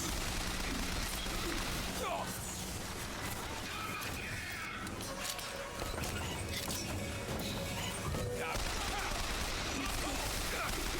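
Gunfire in the video game Bioshock Infinite: dense, continuous bursts of shots with crashing and mechanical clatter, loud throughout the whole stretch with some voice mixed in.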